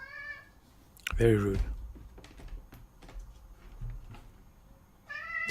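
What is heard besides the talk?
cat meowing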